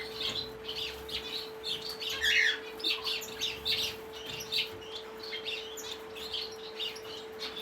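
Parrot finches chirp and squawk in an aviary, a busy run of bright, high calls repeating close by over a steady electrical hum, with no talk.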